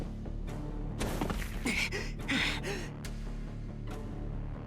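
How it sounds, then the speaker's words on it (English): Several sharp breathy gasps for air after a sprint in the visual novel game Tsukihime, heavy panting bursts spread over a few seconds against a low steady hum. "I lean against the altar, gasping for breath"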